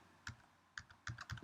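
Computer keyboard keys pressed for a Command shortcut: a few soft, close clicks in quick uneven pairs, quiet and alone with no voices.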